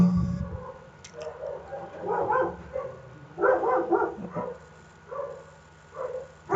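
Small dogs barking in repeated bursts of yaps and yips, clustered into several loud volleys separated by short pauses, fairly close.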